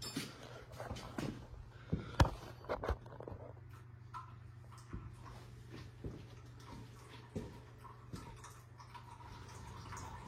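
Engine oil from a diesel engine draining out of the plug hole into a drain pan: a faint, steady trickle with scattered drips and occasional clinks, quiet and close, no talking.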